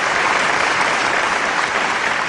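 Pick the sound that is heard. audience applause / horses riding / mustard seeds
audience applause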